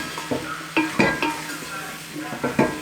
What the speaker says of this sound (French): on va déglacer avec à peu près 180 ml de vin rouge